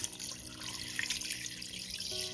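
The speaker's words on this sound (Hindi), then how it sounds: "पानी उतना ही डालेंगे जिसमें विंग्स डूब जाएं बस।" A steady, close stream of water pours into a pot holding raw chicken wings, a continuous bright splashing rush with no talk over it.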